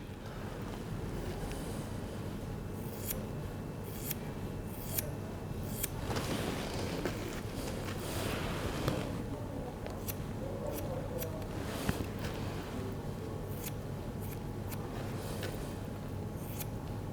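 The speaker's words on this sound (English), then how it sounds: "So dry cutting, I just find that the scissor gives a far more accurate finish" Scissors dry cutting hair in a salon, a run of crisp snipping strokes in irregular bursts, close and fairly quiet over a faint background hiss, no speech.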